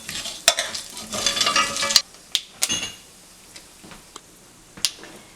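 Whole cinnamon, cardamom, clove and Bengali panch phoron spices crackle and splatter in hot oil: a dense burst of sizzling and sharp pops for about two seconds, thinning to scattered loud snaps.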